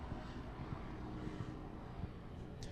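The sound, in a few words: helicopter flying low overhead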